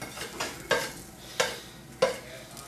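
Onions frying on a griddle with a steady sizzle, broken by three sharp scraping flips of a spatula spaced roughly evenly apart, close and fairly quiet.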